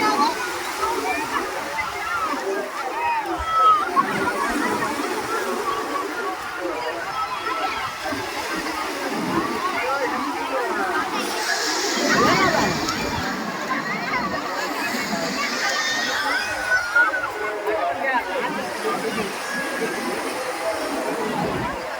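Sea waves splash and wash at Tiruchendur beach, a continuous rushing surge that swells and recedes, heard close under frequent talking.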